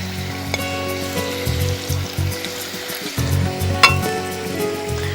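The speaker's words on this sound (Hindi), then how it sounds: "मैं इन्हें फ्राई करने के लिए डाल रही हूँ" Koftas deep frying in hot oil in a home kitchen, a steady loud sizzle and bubbling throughout with faint clinks of a utensil, close up and without speech.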